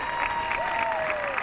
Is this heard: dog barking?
no